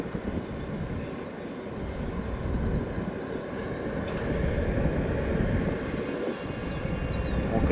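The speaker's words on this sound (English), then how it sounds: "Just before our Qatar Airways turns on to runway 10 left." A Qatar Airways airliner taxis onto the runway at O'Hare airport, its jet engines producing a steady, fairly loud broadband rumble and whine that holds evenly throughout with no talking.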